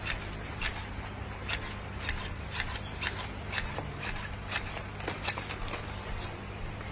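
Shears snip through a mite-infested plant during pruning, a quick irregular run of crisp close cuts and rustling leaves, with no talk.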